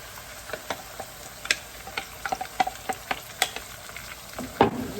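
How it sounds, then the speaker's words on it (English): A pan of tomato sauce simmers and sizzles softly while a utensil stirs it, making intermittent light clicks and scrapes against the pan, close by, with a louder scrape near the end. "So I'm going to add the tomato sauce."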